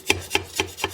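A knife saws back and forth through a genoise sponge cake, four evenly spaced soft scraping strokes up close, with no talking.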